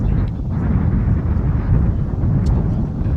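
Steady low wind rushes and buffets across an outdoor boys' high school soccer field, with gusts swelling continuously and no clear voices over it.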